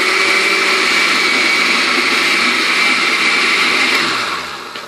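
A blender whirs steadily, loud and continuous, chopping apples for canning, the motor tone easing down near the end.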